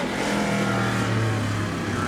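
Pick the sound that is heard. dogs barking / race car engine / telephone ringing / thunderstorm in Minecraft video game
race car engine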